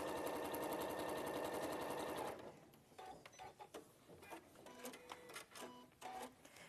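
A sewing machine stitches plain fabric in a fast, steady whirr for about two seconds, then stops, leaving scattered clicks and light handling noises.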